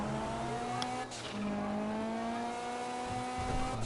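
Car engine in the video game GTA 5 Online, a close, steady droning hum with rising and falling revs and a brief whooshing pass, moderately loud and continuous.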